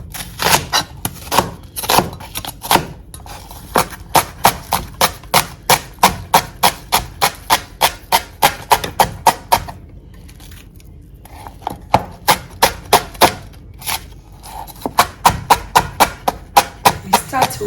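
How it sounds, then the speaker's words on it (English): Shallots being chopped with a knife on a board, fast rhythmic close knocks in quick bursts with brief pauses between runs, crisp and loud. "Go ahead and chop our shallots."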